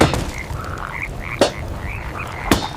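A chorus of frogs croaks continuously, loud and close, as a sound effect in a narrated story of the frog plague sent on Pharaoh's kingdom, with a few sharp bursts standing out.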